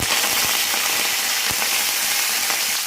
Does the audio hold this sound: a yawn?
no